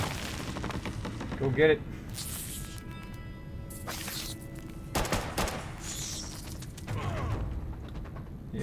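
Gunfire and combat effects from a Fallout Shelter quest, with a few sharp bursts and shots over a steady mechanical game background while someone talks.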